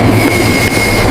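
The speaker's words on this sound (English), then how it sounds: "What's taking this damn train so long?" A train passing close and loud, with a dense steady rumble of wheels on rails and a faint metallic squeal running throughout, with no voices.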